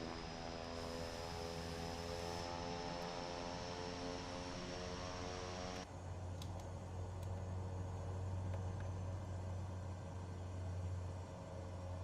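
An airliner taxis in Microsoft Flight Simulator 2024, a steady engine drone and whine whose tone shifts partway through to a lower, rougher hum, with no talk.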